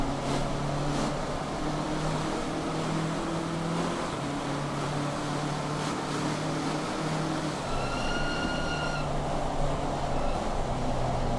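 Rear-engine and front-engine race cars battling closely at the Red Bull Ring in Assetto Corsa Competizione, engines droning loud and continuous with shifting pitch, a higher whine briefly rising near the end, no talk.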